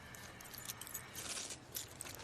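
A bunch of car keys jingles softly as it is handed over, with light metallic clinks rising and falling through a quiet room.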